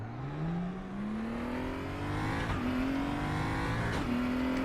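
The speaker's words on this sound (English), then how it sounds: "Actually fire up the car." A BMW race car engine in the RaceRoom Racing Experience game fires up and revs, its pitch climbing steadily with two brief dips as it builds, loud and close with no talking.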